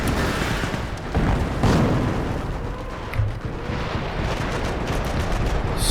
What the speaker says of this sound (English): Stuka firing, counter-battering on the mortar, Calliope going right in the middle of our offensive